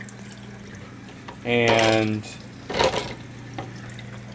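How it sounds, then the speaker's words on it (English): Hot water poured into a kitchen sink after boiling eggs: a loud gushing splash of about a second, then a fainter run of cool tap water with brief splashes, under a voice. "I just pour this hot water into the sink, and then I have some cool water running right now"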